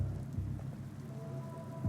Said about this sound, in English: The rain looks freaking awesome, by the way